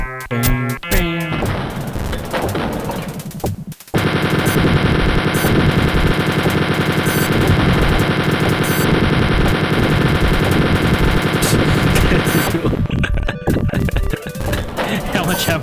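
Sustained rapid machine-gun fire from the first-person shooter Wolfenstein 3D, loud and continuous for over ten seconds after a few short bursts, with no talk over it.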